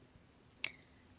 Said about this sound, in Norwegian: Da klikker du på klasseseksjon, og deretter på ny klasseseksjon-knappen.